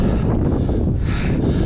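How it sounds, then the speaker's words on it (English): Strong wind buffets a cyclist's microphone out in the hills, a loud, steady roar with gusty swells and no voices. "the wind, it is pretty bad"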